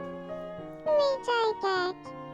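Baby character Soa in Tomodachi Life babbles in a synthetic, childlike voice, three short, bright, pitch-sliding chirps over a soft electronic background melody.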